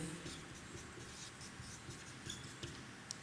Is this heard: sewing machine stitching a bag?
no